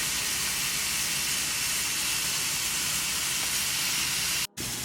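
A rib eye steak sizzles on a hot grill, giving a steady, loud broadband hiss that runs unbroken for several seconds before a brief dropout near the end.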